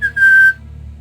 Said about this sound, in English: with a very inconspicuous whistle